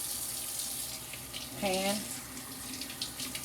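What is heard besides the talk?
cold tap water running while rinsing fish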